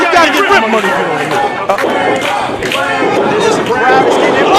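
A lively crowd at an indoor wrestling event chatters and roars steadily, a dense babble of many voices, with a commentator talking loudly over it.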